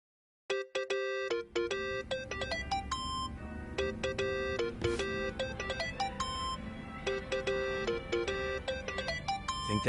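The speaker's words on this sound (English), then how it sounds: "Think that's your phone, man." Phone ringtone in the video game Yakuza: Like a Dragon, a bright electronic chiming melody that repeats in quick tonal phrases, starting abruptly after a brief silence and continuing loud and alone.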